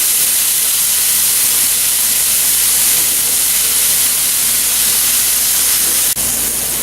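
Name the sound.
pork chops searing in a pan after flipping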